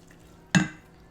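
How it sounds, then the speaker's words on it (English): Dry ingredients with half a teaspoon of baking powder are sifted and stirred in a bowl, giving a single sharp clink of a utensil with a short scraping tail in an otherwise quiet kitchen. "Half a teaspoon of baking powder. And we're gonna sift this."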